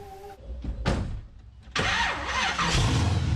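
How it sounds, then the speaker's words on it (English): A 1972 Pontiac LeMans with a modern twist cranks over in a few short bursts, then catches and settles into a loud, steady idle. "When Keith Damon gets behind the wheel and starts up the engine of his 1972 Pontiac Lemons"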